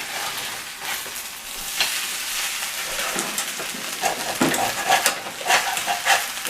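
Fried rice sizzles and crackles in a hot pan as it is stirred and scraped, a continuous dense frying hiss with louder scraping bursts toward the end.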